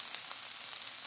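Eggs scramble in a hot frying pan for migas, giving a steady, bright sizzle and crackle. The frying is close and continuous, with no talking over it.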